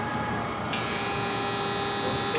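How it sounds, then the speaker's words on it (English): A Brown & Sharpe 824 Dial-A-Size hydraulic surface grinder moves into its dressing cycle, giving a steady loud mechanical whine and hiss. A sharper high layer starts partway through and holds to the end, with no talking. "The machine will park and at the same time go back up, and then starts the dressing cycle."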